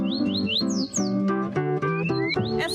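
Birds at Lago Azul park in urban Rio Claro, Brazil, sing alone and up close: repeated rising whistles and squawking calls in quick succession, loud and continuous.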